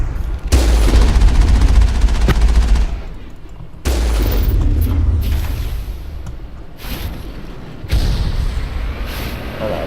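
Sustained bursts of heavy gunfire from the video game Mass Effect as a turret is shot and destroyed, loud and continuous in three long waves with short breaks between them.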